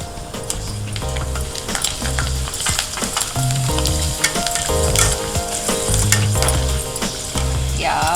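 Potato vadiyalu frying in hot oil make a loud, continuous bubbling sizzle with scattered crackles and stirring clatter, close up and without speech.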